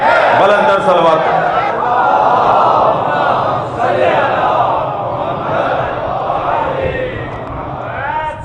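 A large crowd at a majlis loudly recites salawat in unison. It is a dense, sustained, chant-like roar of many voices, close and very loud throughout.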